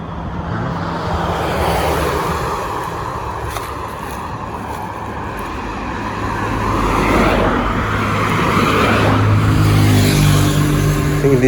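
Road traffic rolls past on a street in Bridgetown, Barbados, a steady broad rumble of cars that swells as vehicles approach and pass close by, growing louder toward the end.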